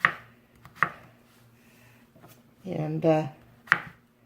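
A knife chops sausage, peppers and onions on a cutting board in a few sharp, separate knocks spaced apart, with a person briefly speaking between the cuts.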